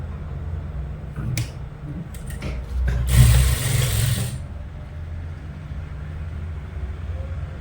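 A sewing machine stitches salwar fabric, running in short mechanical bursts of rattling, whirring needle motion with brief pauses and a louder clattering stretch near the middle, steady and close with no talk.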